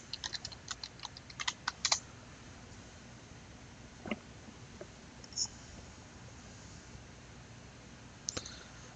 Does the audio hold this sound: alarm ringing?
no